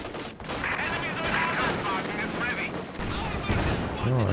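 Maxim machine gun laying down sustained fire in Company of Heroes 2, a continuous rattle of bursts mixed with other battlefield gunfire and booms, dense and loud throughout.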